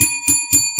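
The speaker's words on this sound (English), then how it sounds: "Let's ring the bell for them egging that bus." A bright bell rings four times in quick, evenly spaced strokes, each a loud, close, ringing ding with sustained tones, and no voices are heard.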